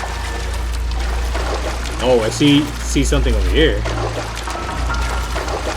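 Water pouring and trickling in a flooded basement in the video game LA Noire Remastered, a steady liquid rush running throughout beneath someone talking.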